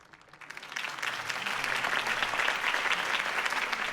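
Applause swells from a quiet start into sustained clapping from a crowd in the Batman Telltale video game, steady and fairly loud, with no talking.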